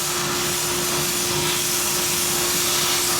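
Steady, loud hiss of compressed air blowing across a cylinder head gasket from a 2017 Harley-Davidson Dyna FXDLS 110ci twin cam engine in a workshop, continuous and unbroken with a faint constant tone underneath.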